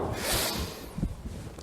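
A single strong exhale through the nose during a home fitness class, a breathy rush that swells and fades over about a second, close and alone with no talking.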